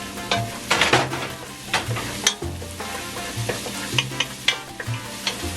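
Onions and garlic sizzle and fry in a pan for chicken tinola, with steady crackling under intermittent stirring scrapes, close and fairly loud, no voices.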